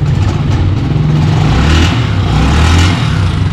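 A Honda TMX 125 motorcycle engine runs close and loud with a steady low throb, swelling slightly in a gentle rev before settling back.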